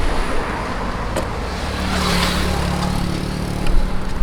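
Cars driving along a street in Grand Cayman on a warm day, a steady close road hum with engine rumble that swells slightly as vehicles pass, no talking.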